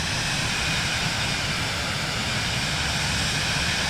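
Airplane engine in Microsoft Flight Simulator 2020 gives a steady, loud, broadband roar that stays constant without letup, heard alone with no voices.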